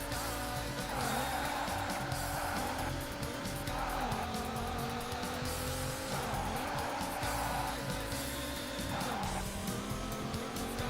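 Race car tires squeal repeatedly through turns in the Daytona USA video game on the Sega Saturn, rising whines recurring every couple of seconds over a constant loud engine roar, with no talking.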